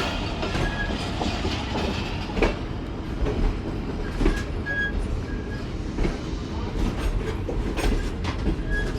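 A train passes on the railway track at Rohri station, a loud, continuous rumble with repeated rhythmic clickety-clack of wheels over rail joints and occasional faint squeals, with no talk.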